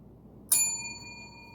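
A small McLaren's Imperial Cheese milk glass jar struck against other glass, giving one bright, ringing clink that decays slowly with a sustained tone, close and isolated.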